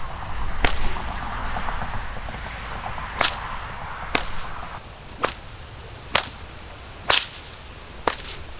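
A nylon whip with a parachute cord fall and a new cracker is thrown repeatedly, giving about seven sharp, loud cracks at irregular gaps over quiet background noise, with no one speaking.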